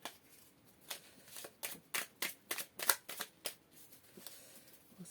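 Tarot cards being shuffled by hand, a run of crisp riffling bursts in an irregular rhythm, close and fairly quiet, with no voice over them.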